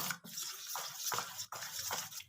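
Water is poured in small splashy bursts into a bowl of patisapta pitha batter, three or four short pours separated by brief gaps, close and faint.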